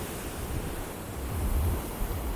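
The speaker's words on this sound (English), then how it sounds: "enjoy the tranquility of the ocean's music and sound" Ocean surf washing steadily at a favourite running spot, a continuous broadband roar of breaking waves with gentle swells in loudness and some wind rumble, no voices.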